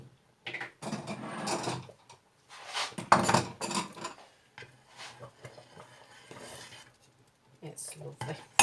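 Sütlaç rice pudding topped with cinnamon is dished up: irregular clinks and scrapes of spoons against dishes and bowls come in bursts close by, with short quiet gaps between them.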